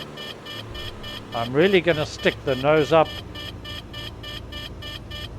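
A flight simulator's landing-gear warning horn beeps in a steady repeating pattern with the gear up, sounding throughout under a voice.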